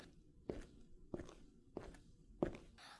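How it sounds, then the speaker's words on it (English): Four separate footsteps spaced at an even, unhurried pace, each a soft, crisp thud, heard moderately close in an otherwise quiet indoor space during a school Founders' Day programme. "Heard those footsteps?"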